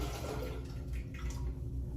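Photographic fixer being poured back into its storage cylinder, a close, continuous low liquid gurgle and splash over two seconds.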